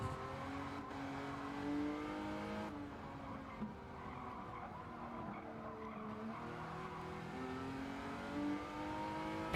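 A Ferrari race car engine revs and drones on track in a street car showdown final, its pitch rising and falling steadily while tires skid and squeal underneath, with no talking.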